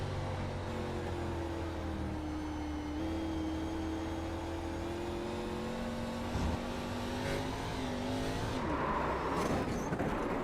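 Onboard engine of a race car in a sim racing game at Milwaukee, a steady loud drone with shifting harmonics that sweeps upward near the end as the car accelerates.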